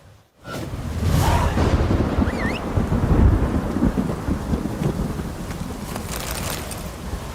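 A heavy thunderstorm in The Witcher 3, with a loud rumbling roll of thunder over a steady wash of rain that carries on for several seconds, with no talking.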